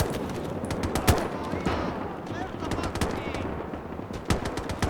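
Machine gun bursts and scattered gunfire crackle through a Gates of Hell battle at the Mannerheim Line during the Battle of Summa, with sharp irregular shots over a dense, continuous combat din.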